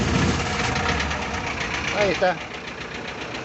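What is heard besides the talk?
Bedford 4-cylinder diesel engine starting and running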